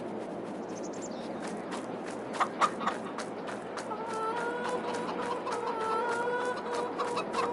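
Chickens cluck in a farm chicken pen, a steady chatter of overlapping clucks with a few louder calls and a drawn-out, rising hen cackle building toward the end, over constant yard background noise.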